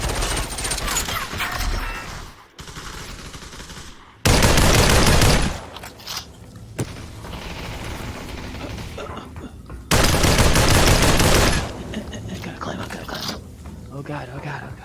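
Bursts of gunfire in a squad battle video game, loud dense volleys around 0 to 2 s, 4 to 5.5 s and 10 to 11.5 s, with quieter rattling shots and game noise in between.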